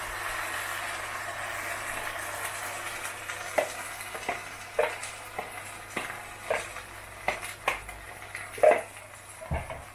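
Pan of liver and bacon sizzling steadily as gravy made from granules goes over it, with a constant hiss broken by a run of louder spits and stirring knocks toward the end.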